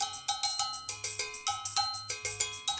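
Cowbell-like percussion toys from a Jamiroquai multitrack of Too Young To Die, struck in a steady bright rhythm of repeated metallic hits over a low groove, close and clear.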